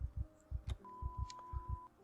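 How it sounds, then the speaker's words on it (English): Heavy, thumping heartbeat in pairs, steady lub-dub pulses repeating about once a second, loud and close, over a low hum and a sustained electronic tone, as a panic effect after a nightmare in the game Project Zomboid. "you could hear the heart beating"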